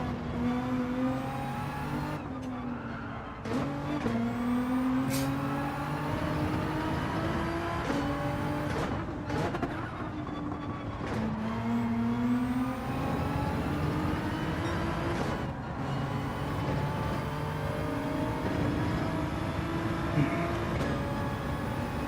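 A GR.3 race car lapping Spa in Gran Turismo 7, its engine screaming loud and close, climbing through the revs and dropping sharply at each gearshift and braking zone in a steady repeating pattern, with no talking.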